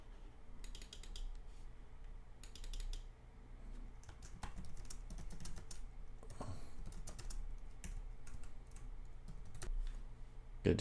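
Steady clicking of a computer keyboard being typed on, in short bursts and runs of keystrokes close up, with a faint mechanical background hum and no talking.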